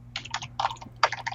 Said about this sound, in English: which is funny because you aren't muting the typing.